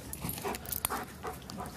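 A dog whimpers and whines in short, uneven bursts with soft panting between them, close by and fairly quiet, as if eager to play.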